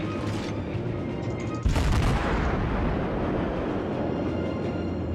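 Naval ship artillery in World of Warships fires with one sudden heavy boom partway through, followed by a dense rolling rumble that stays loud as it fades into the battle noise.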